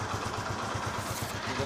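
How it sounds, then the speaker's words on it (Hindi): A Hero Honda motorcycle engine idles steadily just after a valve tappet adjustment, its close, even low thudding pulses repeating in a quick, regular rhythm with a faint mechanical clatter on top and no talk. "आप सुन सकते हो इंजन की अच्छे से आवाज़।"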